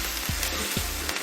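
Onions sizzle steadily in a hot pan while cooking for dal makhani, a constant loud frying crackle with a couple of soft stirring scrapes.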